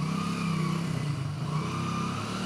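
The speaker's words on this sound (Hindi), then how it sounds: "देखिए पैरों से ही वो बाइक को मोड़ रहे हैं और देखिए हमारे पास तक वो आ रहे हैं बहुत आसानी के साथ बाइक चलाते हुए" A motorcycle steered with the rider's feet by a man recovering from knee pain, its engine droning steadily and fairly loud with a low rumble throughout as it approaches at an easy pace.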